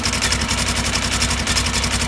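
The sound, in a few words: Polaris 900 XP motor revving with Duraclutch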